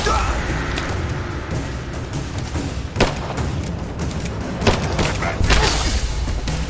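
Dense, continuous gunfire and booming blasts in a Rise of the Tomb Raider battle, loud and sustained with heavier impacts standing out, voices shouting under the barrage.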